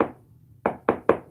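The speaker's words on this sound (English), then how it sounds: "You didn't witness or hear me knocking on this wall right here" Knocking on a wall, heard as four sharp knocks: one opening rap, a pause, then three evenly spaced raps close together, near and distinct against quiet room tone.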